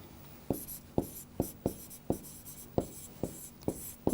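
A pen writes out a maths solution on paper in a row of about nine crisp, evenly spaced scratchy strokes, close and fairly quiet, with no talking.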